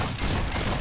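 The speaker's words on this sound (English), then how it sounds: "Shot that dude in the butt 3 times." Gunshots in the video game Fable 3: a rapid, dense volley of gunfire, loud and continuous through the brief moment, with no voices over it.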